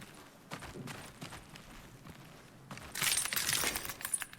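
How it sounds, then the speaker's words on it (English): Footsteps on broken glass in the horror extraction shooter HUNGER: a run of soft scuffing steps, then a louder crunching, crackling burst of shattering shards underfoot toward the end, close and without speech. "Sounds like I just stepped on a bunch of glass."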